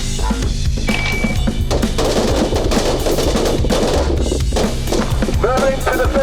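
Guns fire in rapid, overlapping bursts at an outdoor shooting range, loud and close, with sharp cracks repeating through the whole stretch.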